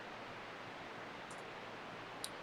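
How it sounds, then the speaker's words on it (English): A white noise test signal plays as a steady, faint, even hiss that stays constant throughout, marked only by a couple of tiny high ticks near the end. "If you've been hearing white noise in the background, I actually have it running right now"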